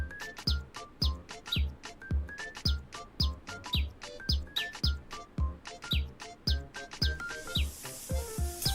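Small bird, a blue wren perched on a windowsill, repeating bright chirping calls in a quick steady rhythm, close and clear, with a hissy wash rising near the end.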